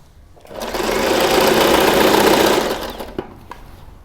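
A sewing machine starts up and hums steadily at close range while stitching a tulip salwar, then winds down after a few seconds, followed by a couple of sharp clicks.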